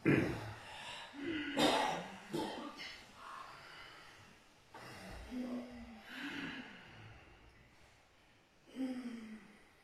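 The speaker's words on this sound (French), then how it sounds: "Et une respiration en Ujjayi, une fois au sol" Ujjayi yoga breathing done during an asana practice, a series of slow, audible breaths with a soft throaty rasp, each rising and fading at irregular intervals, close and fairly quiet.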